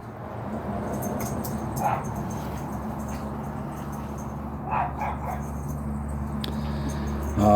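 Pet dogs give a few short yips and whimpers at moderate distance, scattered over a steady low background hum, with a louder burst near the end.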